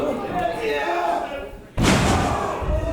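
A heavy slam as a wrestler is driven down onto the ring during a title match with another wrestler, a loud sudden thud over steady crowd noise and commentary voices.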